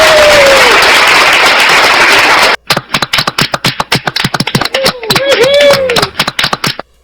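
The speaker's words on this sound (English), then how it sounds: "Let me give Ack a round of applause for that." A burst of dense applause fills the first few seconds, then scattered sharp claps continue while someone talks over them.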